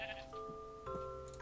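Two sheep bleat in a video game, nasal wavering cries sounding one after another over soft background music, with a brief higher noise at the end.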